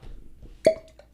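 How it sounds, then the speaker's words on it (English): A cork pops from an Elijah Craig whiskey bottle in one short, clear hollow pop followed by a brief ringing tone, close and alone in a quiet room. "Cork pop"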